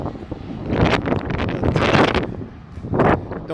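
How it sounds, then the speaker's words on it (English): Wind gusting across an open outdoor spot on a breezy day during a walk, a broad rushing noise swelling in several loud buffeting waves against the microphone, with no talk. "It's a bit breezy today."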